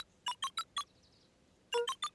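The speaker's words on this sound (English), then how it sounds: "Luca cracked his knuckles and entered the letters into the keypad." Keypad letter-entry beeps in the Beacon Pines video game: four quick, bright electronic tones, a short pause, then three more, clean and alone.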